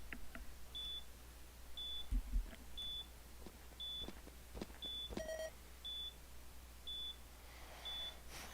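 A planted bomb in a video game gives out short, evenly spaced electronic beeps about once a second, with faint clicks and game noises between them.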